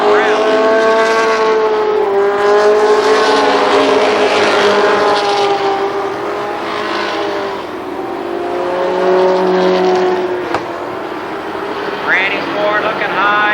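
Race cars roar around a short oval speedway track during a Labor Day championship race, engines loud and near, rising and falling as cars pass, with a commentator talking throughout.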